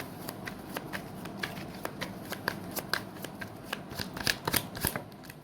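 Tarot cards are shuffled by hand in a quiet room, a rapid series of crisp riffling snaps and soft slides that grows a little louder toward the end.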